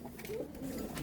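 Male Benidi and female Australian pigeons in a loft, soft low cooing in a couple of short murmured phrases, faint and close, with light rustling behind.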